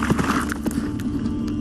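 A horse being ridden toward a battlefield, its hooves clopping steadily and close amid a dense, loud layer of other sound, with no voices standing out.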